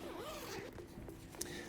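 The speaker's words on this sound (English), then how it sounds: "There is a extra air ventilation in the back by opening up this zipper." Zipper on the back ventilation panel of a Nuna TRVL stroller canopy being opened, a brief quiet zip heard under steady background noise.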